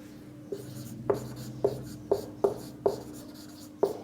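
Chalk or marker strokes on a board during a physics lesson, seven short sharp taps and scrapes at uneven intervals over a low steady room hum, with no one speaking.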